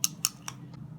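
Faint ticking of the bimetal strip inside a C7 incandescent flasher bulb, a few tiny dry clicks close together that quickly fade, with no talk.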